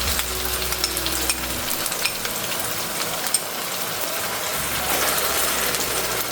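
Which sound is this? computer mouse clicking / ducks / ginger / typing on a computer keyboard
ginger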